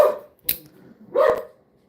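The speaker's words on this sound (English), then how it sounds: "Sorry, my dog's going nuts." A pet dog barks twice indoors, two sharp separate barks about a second apart, fairly close and loud against an otherwise quiet room.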